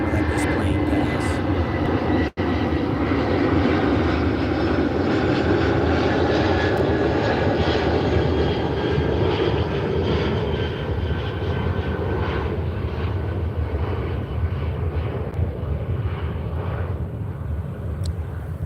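A propeller airplane passes overhead with a loud, sustained engine drone that fills the whole stretch and fades only slightly toward the end.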